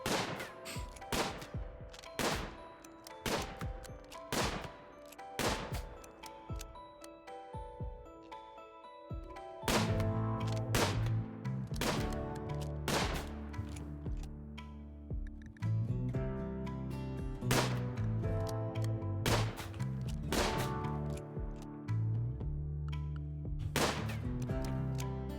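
Rapid volleys of gunfire from colonists at shooting practice in the video game Rimworld, sharp cracks in irregular bursts, sometimes several shots close together, with a steady musical backdrop underneath throughout.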